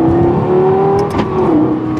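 A 2012 Lexus LFA engine revs while driving: a loud, close, steady mechanical tone that rises, holds, then briefly dips and climbs again, with no voices.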